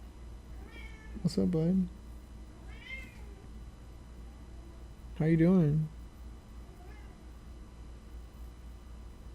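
A pet cat meows twice, the first a longer drawn-out call and the second a shorter one a few seconds later, each close and clear against a quiet room, with someone speaking softly between them.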